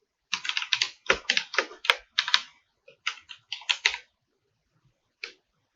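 Quick, crisp keystrokes on a computer keyboard while entering a text title in Adobe Premiere Pro come in uneven bursts of clicks separated by short pauses, close and clear, ending with a single isolated tap.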